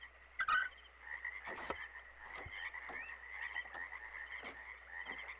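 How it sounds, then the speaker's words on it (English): A chorus of frogs croaks and trills in the game Myst, with a few louder croaks standing out over a continuous chirping background and a low hum. "Lots of frogs."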